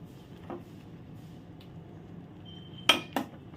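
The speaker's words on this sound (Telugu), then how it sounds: "సో ఇప్పుడు మిక్స్ చేసుకోవాలండి" A small spoon stirs Ching's hot garlic instant noodles boiling in a pan, giving a few sharp metallic clinks and scrapes against a quiet simmering background.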